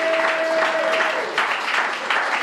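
A church congregation claps and cheers to acclaim the Lord during a French-language revival service, a dense, steady wash of applause filling the room, with a sustained tone fading out early.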